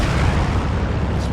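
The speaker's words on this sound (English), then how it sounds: "Explosion in that south Phoenix side." Explosion in a WWII strategy video game skirmish, a loud, dense, sustained low rumble with no sharp onset, filling the whole moment without talk.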